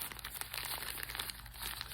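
Newspaper sheets crumpled by hand into a ball to form a papier-mâché rock: a steady, close, soft crinkling and rustling that continues throughout with no pauses.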